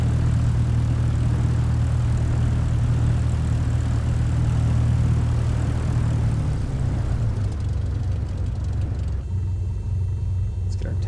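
Small propeller airplane engine idling after a VFR flight into San Luis Obispo, California, a deep droning hum that runs steadily, then drops in pitch and fades toward the end.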